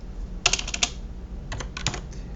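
Keys clicking on a computer keyboard while an Excel formula is entered, in two short clusters of quick, close, fairly quiet keystrokes separated by a pause, over a low steady hum.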